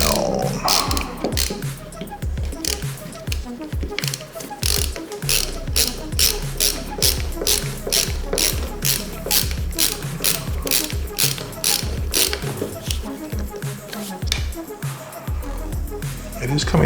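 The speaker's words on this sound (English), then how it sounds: "And now we're going to screw it down" A ratchet driver clicks rapidly and rhythmically while screwing a part down on a Prusa Mini clone 3D printer, close and crisp in quick bursts of ticks, with brief pauses between strokes.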